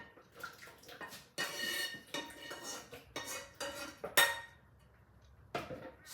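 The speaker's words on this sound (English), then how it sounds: "so I'll just put that in the pot" Food scraped and tipped into a metal cooking pot in a home kitchen, with clanking utensils, clinks against the pot and wet splattering bursts in irregular bursts, close and fairly loud.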